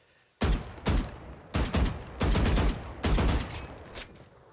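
Bursts of gunfire ring out in the Valorant video game, several loud volleys of rapid shots with short gaps between them, close and sharp, with no talking.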